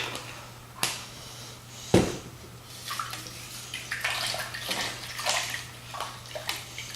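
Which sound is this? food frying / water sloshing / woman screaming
water sloshing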